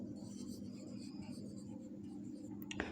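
Chalk or marker scratching across a classroom board, a steady faint rubbing texture over low room hum with a short sharp tap near the end.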